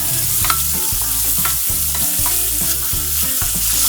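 Bacon rendering and frying in a pan while being stirred, a steady loud sizzle with regular scraping stirs, close and without talk.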